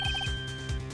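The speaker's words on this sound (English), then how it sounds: "I had a phone ring just now, one of those newfangled ringtones." Phone ringtone from the Phoenix Wright: Ace Attorney video game, with short repeated electronic bursts in a quick pattern, loud and close, heard on its own.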